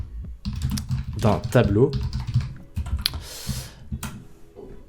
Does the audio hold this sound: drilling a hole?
no